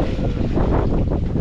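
A sailboat under sail heading toward Cap Creus, with heavy wind buffeting the microphone and a steady rush of air and water from start to finish.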